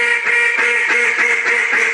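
Wooden duck call from Jargon Game Calls blown in a short 'small talk' sequence: a rapid string of about eight bright, reedy quacks in a steady rhythm, close and fairly loud, with no talking over it.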